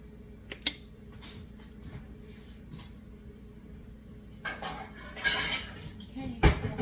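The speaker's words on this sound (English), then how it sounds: "Let me get a bowl so I can put the egg whites separate because I need them." Bowls and dishes clink and clatter in a kitchen as one is taken out, with a couple of sharp knocks early, then a quieter stretch and a louder burst of ceramic rattling and a final bang near the end.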